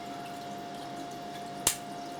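Water falls off a Java fern as rock wool is rinsed away, a single soft splash or drip over a steady background hum with a faint tone.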